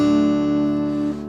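An acoustic guitar in open D tuning (D A D F# A D) strummed once, its full chord ringing out evenly and loud before starting to fade, alone with no talking.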